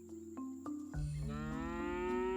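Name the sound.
cow mooing in video game Scott Whiskers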